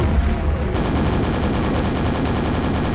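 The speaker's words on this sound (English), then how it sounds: "We can rocket jump around the map." Rapid, dense blasts of rocket fire and explosions in Quake Arcane Dimensions, a continuous loud barrage with no pauses.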